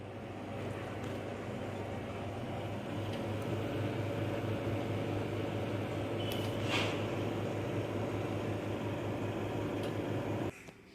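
A microwave oven runs while prawn malai curry cooks inside, giving a steady, even hum with a faint high hiss that holds for about ten seconds, then cuts off abruptly.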